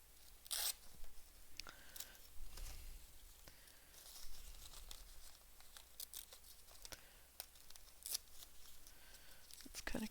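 Pages being torn out of an old journal: scattered sharp rips and crinkling paper at close range, a few quick tearing bursts between quieter handling sounds, with a voice speaking softly in places.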